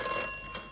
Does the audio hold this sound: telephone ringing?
yes